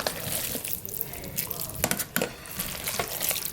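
Shrimp are tossed and stirred into a pot of Cajun chicken, shrimp and chicken sausage jambalaya, a close wet scraping and sloshing with faint sizzle and a few sharp utensil knocks against the pot.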